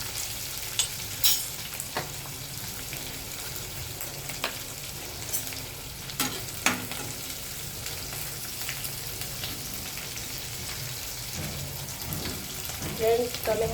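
Chillies for a Kathiyawadi chilli curry fry over a medium flame in a pan, with a steady soft sizzle and occasional spoon-stirring scrapes and clicks throughout.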